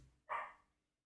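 A small dog gives a single short, sharp bark, faint and somewhat distant in a quiet room.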